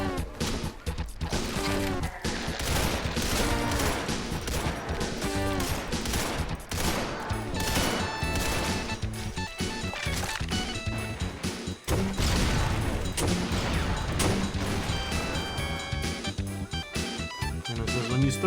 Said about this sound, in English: When you throw a grenade and start hearing noises like you just shook a hornet's nest.